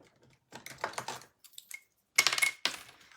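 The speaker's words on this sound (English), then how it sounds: "then I'll just trim up that ribbon a little bit on this end" Metal craft snips cut through ribbon at the edge of a handmade card, giving a few crisp close snips and clicks in short bursts with pauses between.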